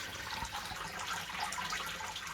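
Sparge water trickles steadily into a malt pipe during a homebrew Kolsch brew day, a continuous close, soft watery hiss with faint splashing and no talk.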